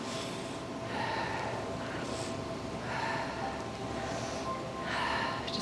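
Slow breaths in and out through the nose during a beginner yoga class, four or five long airy swells in a steady rhythm, close and fairly loud, with no talk.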